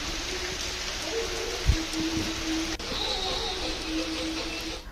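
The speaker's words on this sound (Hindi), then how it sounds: "सिर्फ बारिश हवा, यही सिलसिला चल रहा है" Heavy monsoon rain pours steadily with a broad wind-like hiss in Chhattisgarh, constant and fairly loud throughout, with a brief low thump near the middle.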